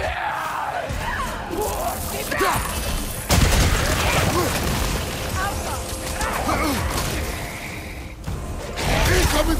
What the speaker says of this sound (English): Incoming fire!